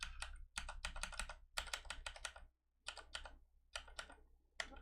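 Rapid clicking from a computer mouse or keyboard comes in close, quiet bursts separated by short pauses, with no talking.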